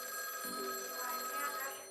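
A telephone bell rings in a steady trilling pattern, filling the short stretch alone with no voices over it.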